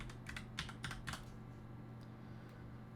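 Quiet bursts of keystrokes on a computer keyboard as a file name is typed, a quick cluster of clicks early on, then a few isolated taps over a steady low hum.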